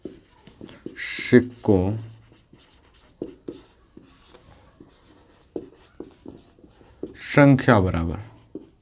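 Pen or chalk scratches out a math solution in short, irregular strokes beneath a teacher's ongoing explanation, with the writing faint under the voice.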